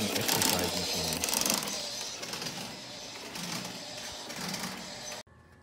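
Motor solenoid of a United Orion Shuffle Alley arcade game buzzing and clattering in a dense, steady mechanical rattle, loud and continuous before cutting off abruptly near the end.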